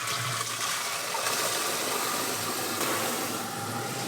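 Water rushes steadily into a rinsing jug on a seed tender, a continuous loud gushing hiss that stays even throughout with no voices over it.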